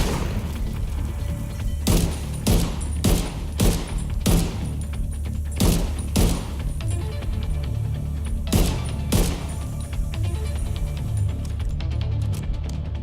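Enemy machine gun fire in The Division 2 comes in a series of loud, sharp bursts over a constant low rumble of game ambience, with about ten distinct reports spread across the stretch and a few short gaps between them.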